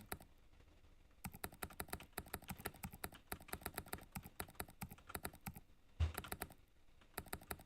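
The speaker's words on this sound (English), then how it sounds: "Sorry about the clicking." Rapid, close clicking of a computer keyboard being typed on, bursts of keystrokes in quick irregular runs with brief pauses, fairly quiet and alone.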